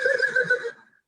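A horse whinnies in a Hindi audio play, a single loud rising-and-falling neigh that trails off into silence.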